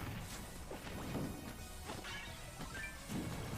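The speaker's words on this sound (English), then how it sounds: "You see so many of these down smashes." Repeated down smash attacks in a Super Smash Bros match between Villager players, heard as a run of sharp hits and swooshes over busy game noise, with no talk.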